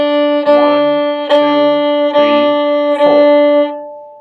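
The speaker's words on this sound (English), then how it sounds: "If you're playing open D as quarter notes," A violin bows the open D string in four even quarter notes, each a sustained tone with a brief gap between strokes, close and clear with no voice.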